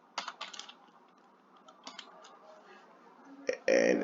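Code being typed on a computer keyboard during a Unity tutorial: a few bursts of quick key clicks with short pauses between them, close and crisp, ending in a denser clatter.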